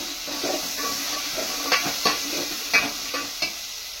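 A spoon scrapes and stirs peanuts, peas and jackfruit seeds in a cooking pot, giving several distinct knocks against a soft frying sizzle, close and alone with no talk.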